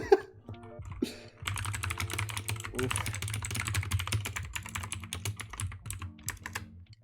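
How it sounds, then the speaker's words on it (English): Rapid, intense clatter of fingers on a computer keyboard runs almost continuously, close and busy, after a brief quieter opening, with no talking over it. "Intense typing in the background."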